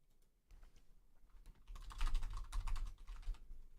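Computer keyboard typing, starting sparse and soft then building into a brisk, busier flurry of keystrokes, close but fairly quiet, with no talking.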